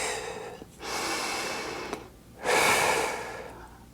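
Heavy, forceful breaths during a Pilates reformer glutes and thighs workout: two long audible exhales with a quieter gap between them, close to the microphone and with no talking.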